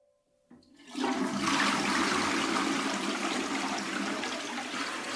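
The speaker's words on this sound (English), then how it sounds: "And the creepy crayon was flushed down the toilet." A toilet flushes after a brief quiet moment, its loud rushing, gurgling water filling the space and then holding steady to the end, with no voices.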